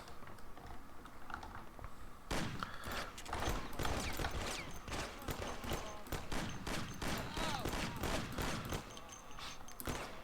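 Dense gunfire from a big shootout in Mafia: The City of Lost Heaven, with rapid overlapping shots and bursts that erupt after a quieter opening and keep up loudly almost without pause to the end.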